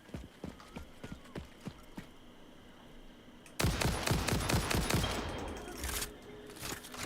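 Gunfire in the video game Satisfactory, first sparse evenly spaced shots, then a louder rapid burst of close, repeated firing.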